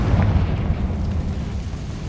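A Confringo spell in Hogwarts Legacy explodes as a heavy, rumbling boom that rolls on and slowly fades across the whole moment, loud and close with no talk.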